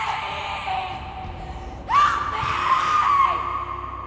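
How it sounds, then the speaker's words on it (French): A tabletop role-playing player letting out a sudden strained, high-pitched scream at full power, loud and close, rising out of a quieter background and holding for a couple of seconds. "vous entendez un cri déchirant qui se répercute dans la caverne"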